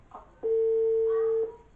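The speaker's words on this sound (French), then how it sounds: "Et là, tu as Elena qui passe un coup de fil au téléphone du château à sa mère." A single steady electronic telephone tone from a château phone, lasting about a second after a couple of soft clicks, with nothing else around it.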